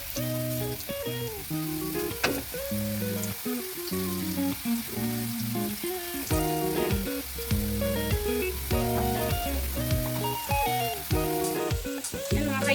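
Squash fries cooking in hot oil give a loud, steady sizzle and crackle, overlaid throughout by a repeating stepped musical tune, with no talking.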